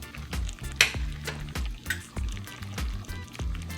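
Fried cabbage with sausage, rutabaga and onion sizzles and crackles in a pan, with soft irregular pops and a few louder clicks and knocks over a low background.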